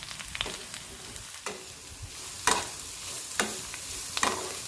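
Chopped beetroot and curry leaves stirred in a pan over a faint sizzle, with a utensil scraping and clinking against the pan every second or so.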